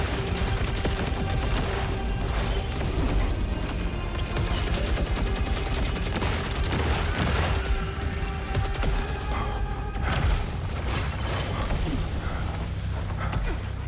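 A gun firing in a video game boss fight on Expert mode: continuous rapid, clattering gunfire with mechanical creaks and clanks, loud and steady throughout with no voices.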